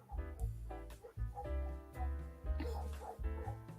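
Several dogs outside bark and yip excitedly in repeated bursts, loud and close, with whimpering between the barks.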